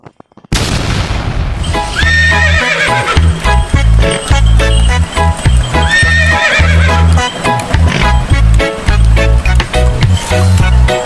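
Hooves of a horse pulling a delman carriage clip-clop loudly in a steady trotting rhythm, with a whinny, all set over cheerful music.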